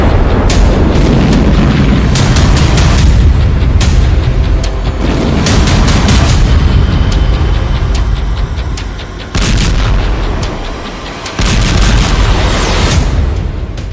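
Heavy explosions from Israeli army bombardment in Gaza: loud, repeated booming blasts and rumbling detonations that follow one another closely, with brief dips between bursts and no voices.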